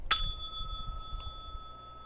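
A single bright notification bell ding rings out with a sharp strike and a long sustained tone, over quiet low background noise.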